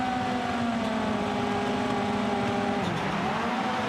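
A pack of rallycross cars on the start line at Lydden World Rallycross holds engines on the rev limiter in a loud, steady, buzzing drone with wavering tones. The drone shifts pitch near the end as the launch begins.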